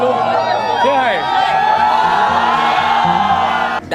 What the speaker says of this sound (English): you see right there in the crowd, everyone cheering in the crowd